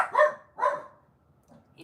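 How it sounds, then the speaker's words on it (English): A dog or two barks twice in quick succession, close and loud, then falls to a faint rustle with a soft yip at the end. "idiot dogs"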